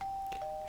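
A doorbell in the Minecraft video game rings with a short two-tone ding-dong, a soft electronic chime stepping down in pitch over a faint background hiss, with no talking.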